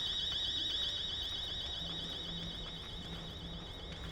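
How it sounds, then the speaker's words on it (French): A steady warbling electronic alarm in the game Chernobylite, a high oscillating tone sounding continuously over low rumbling ambience and faint mechanical hum. "Bon, alarme."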